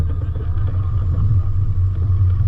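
A Mitsubishi Pajero 4WD grinds steadily through a bank on a bush track at night, its engine a low continuous rumble close by, no voices.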